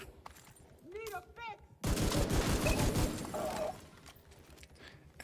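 Video game gunfire in a shooter with heavily armored enemies, a dense, loud burst of rapid automatic shots lasting a couple of seconds, then fading into lighter game effects, preceded by synthetic electronic sounds.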